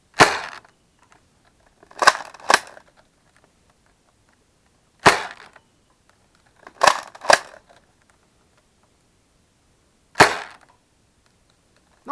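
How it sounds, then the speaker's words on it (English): A stock Sonic Blue Mega Magnus Nerf blaster fires, each shot a sharp, loud close-up crack, sometimes doubled in quick pairs, with several seconds of near silence between shots. "the first blaster we're going to start with is the Sonic Blue Mega Magnus"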